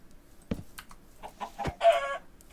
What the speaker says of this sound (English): Wait, there's a chicken right there.